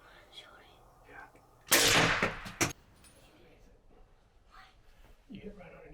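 A child's hunting rifle fired at a doe, a single loud close report with a short echoing tail, and a second sharp crack just after, framed by quiet whispered voices before and after.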